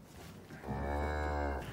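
One cow from a pasture herd gives a single long, loud moo lasting about a second over quiet background.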